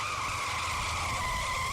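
Car tires squeal in a steady, continuous skid while the car is being parked in a garage, fairly loud and unbroken throughout.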